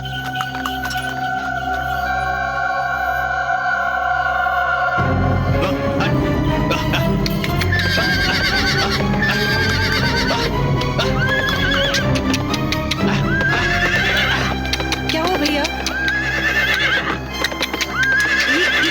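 A horse neighs and whinnies repeatedly while hooves clip-clop in a steady rhythm, loud and close, with a drone of background music running throughout.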